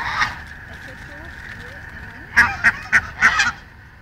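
Ducks feeding on biscuits give a cluster of four or five loud, honking calls near the end, after a quieter stretch with a short call at the start; people talk nearby.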